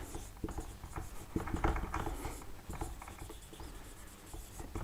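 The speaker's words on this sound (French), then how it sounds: "Donc ici, j'essaie d'écrire ici" Chalk or marker scratches and taps while writing on a board, with a continuous stream of rough strokes and small knocks heard close up and without talk.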